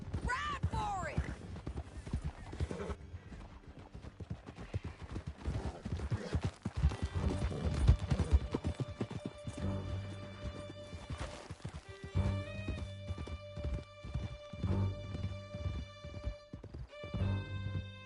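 Horses gallop hard in Red Dead Redemption 2, hooves drumming close and loud with occasional whinnies, as voices and swelling music play over the ride.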